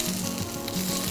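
Wagyu steak sizzling in a hot pan at a home stove, a continuous close frying hiss with no voices.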